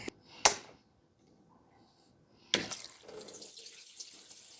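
Diesel is poured from a safety fuel can: a couple of sharp clicks and knocks from the can, a quiet pause, then a soft, close trickle of liquid running through the second half.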